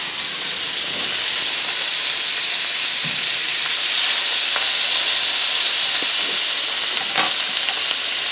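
Steak fries in butter in a pan with a loud, continuous sizzle and hiss, steady throughout, with a few faint scrapes and taps mixed in.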